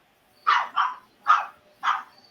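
A dog barks four times in a steady rhythm, the short, sharp barks fairly close against a quiet background.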